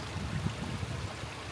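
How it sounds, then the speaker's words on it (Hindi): A small mountain stream near Sahastradhara on the Satopanth Taal trek in the Himalaya gives a steady, close rush of running water with soft gurgles, heard alone. "यहाँ पे छोटी छोटी स्ट्रीम्स भी हैं"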